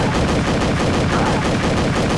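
Dense pistol and automatic gunfire in the video game Reckoning, loud continuous rapid shots packed tightly together for the whole stretch.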